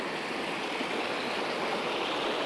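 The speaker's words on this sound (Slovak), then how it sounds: "Stojím si pri potoku, pozerám do neho" Steady rushing and splashing of a mountain stream in the Western Tatras, an even broadband wash of water running continuously at close range with no voices.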